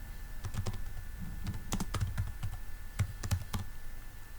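Someone types a search term on a computer keyboard, with quiet, irregular clusters of key taps close by and no talking.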